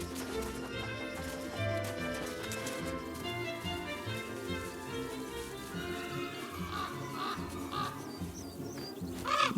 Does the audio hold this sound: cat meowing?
no